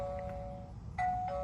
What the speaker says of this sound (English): it gives a little ding dong on the speaker